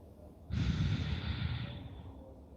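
A deep, audible breath during a slow yoga flow, one long airy inhale-exhale swelling suddenly and fading over about two seconds, close and alone with no talking.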